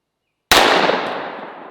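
A single sharp gunshot strikes a ballistic gel zombie bust, a loud close crack out of silence followed by a long fading rumble and tail.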